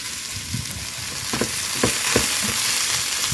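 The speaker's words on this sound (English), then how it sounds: "my sausages are starting to brown" Sausages frying and browning in a pan, a steady loud sizzle with occasional pops and light stirring clatter throughout, close up and with no talking.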